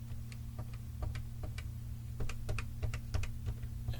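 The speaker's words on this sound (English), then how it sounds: "let's go ahead and test the original MC-10 keyboard now to see if it is still working" Keys tapped one at a time on the original TRS-80 MC-10 computer keyboard, a sparse irregular series of small plasticky clicks over a steady low electrical hum, close with no talking.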